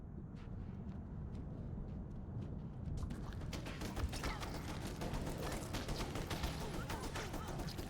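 Rapid gunfire in the horror game Alone in the Dark: Illumination, dense bursts of shots that sharpen and grow busier after a few seconds, layered over a steady low rumble with voices faintly in the background.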